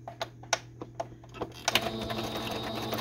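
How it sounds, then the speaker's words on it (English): A sewing machine back stitching fabric and lace for a junk journal pocket page, with short bursts of rapid mechanical stitching and clicks that settle into a steadier run near the end. "I'm going to back stitch one more time on this part."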